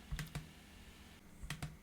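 Typing on a computer keyboard, with a few sharp keystrokes in two small pairs separated by a quiet gap, close and clear with no talking.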